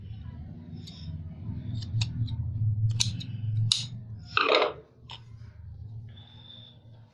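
Scissors snip away the excess threads on a stitched back-neck blouse design, giving close, sharp clicks spread across the span with one louder rustling cut near the middle over a low steady hum.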